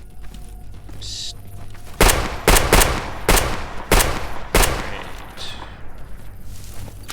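Gunfire in the video game S.T.A.L.K.E.R. G.A.M.M.A.: a run of loud, sharp gunshots a fraction of a second apart, then quieter distant shots and rustling, with a brief spoken word.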